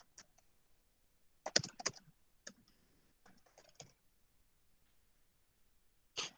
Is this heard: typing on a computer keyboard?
yes